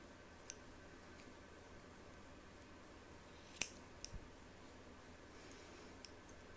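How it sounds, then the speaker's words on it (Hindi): A single sharp scissor snip cuts through a yarn tassel from below, close and brief, surrounded by a few faint clicks in a quiet room. "जस्ट इसको आपने नीचे से ऐसे काट लेना है"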